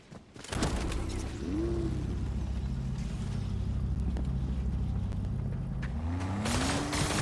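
A car engine in the Fortnite video game revs up with a rising pitch, settles into a steady drone, then climbs again at the end, loud and close with no talking.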